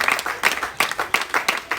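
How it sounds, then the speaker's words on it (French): A church congregation clapping together in a steady rhythmic beat, about three claps per second, close and fairly loud, with no talk over it. "Kunnen we applaudisseren voor de Heer."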